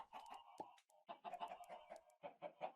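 A single Minecraft chicken in the FTB StoneBlock 3 modpack clucks in short, repeated bursts, close and clear, with no other sounds.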